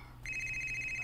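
A cellphone starts ringing about a quarter second in, a steady electronic ring pulsing evenly and loud over a low background hum, continuing to the end.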